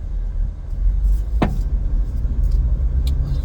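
A car drives into town, its cabin filled with a steady low road and engine rumble, broken once by a short rising whine, with no one speaking.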